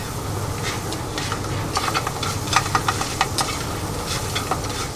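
An extra 10 g of butter melts in a hot pan of French toast, giving a steady, close sizzle with scattered crackling pops and no voices.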